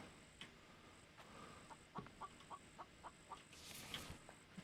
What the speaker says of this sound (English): Chicken up at midnight.